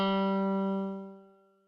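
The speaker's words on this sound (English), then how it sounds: "If I just play an open G note" An open G note is plucked once on a guitar through a Joyo JF-13 AC Tone pedal, a single clear sustained tone that rings out and fades over about a second.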